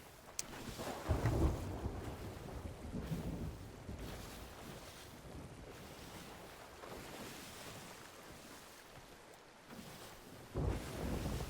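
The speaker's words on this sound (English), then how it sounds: "There is something so serene about the crackling of thunder" Rumbling thunder during a thunderstorm at sea aboard a sailboat, deep low rolls swelling and fading under constant wind noise and waves, with a louder rumble near the start and again near the end.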